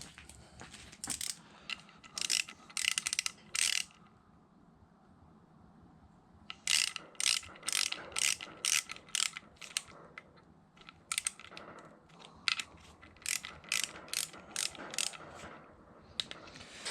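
Ratchet wrench clicking in quick bursts while tightening bolts on a Yamaha YFZ450R engine during a build, close and loud, with pauses between runs of rapid clicks.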